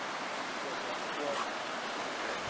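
Water rushes continuously through the sluice of a dam at an old ironworks, a constant, fairly distant roar with no break and no clear voice over it.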